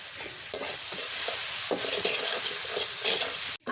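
Onion paste, garlic paste, salt and turmeric sizzling in a pan while being stirred, a steady close fry with repeated scraping strokes.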